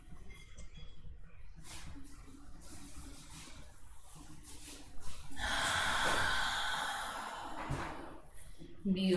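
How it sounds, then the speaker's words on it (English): Big diaphragmatic belly breaths during a gentle yoga session for the hips, heard as a short sniff, then a long, loud, airy breath close to the microphone, ending with another sharp intake. "take a couple of big, giant, diaphragmatic breaths"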